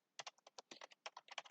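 Quick, irregular computer keyboard typing, a dozen or so close, crisp key clicks in a brief flurry against silence.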